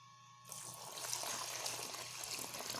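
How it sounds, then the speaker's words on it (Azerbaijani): Warm water pours steadily into a bowl of dissolved yeast for homemade bread dough, a continuous close splashing gush that starts abruptly and runs on alone. "İndi suyu əlavə eləyək, xəmirimizi başlayaq yoğurmağa."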